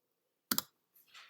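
A quick double click of calculator keys being pressed up close, followed by a softer faint rustle.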